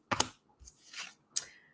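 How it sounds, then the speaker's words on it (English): A deck of tarot-style reading cards shuffled by hand in three short papery riffling bursts separated by brief pauses, close and dry in a quiet room with no talk. "I'm just going to shuffle and I'm going to pull from the top"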